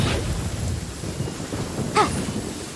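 A thunderstorm with lightning in a video game: steady rain hisses throughout, low thunder rumbles underneath, and one sharp crack of lightning strikes close near the end, with no voices.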